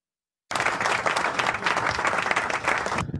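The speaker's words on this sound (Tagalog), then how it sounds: "Palakpakan mga kababayan." An audience at a Catholic gathering breaks into steady applause, dense clapping that starts abruptly after a moment of silence and carries on for about two and a half seconds before stopping.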